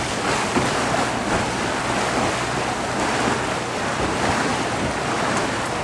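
Steady, loud rushing wash of river water splashing against the hull of a cruise boat on the Malacca River, a continuous close roar mixed with wind noise and no pauses.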